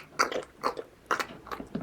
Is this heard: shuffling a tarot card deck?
no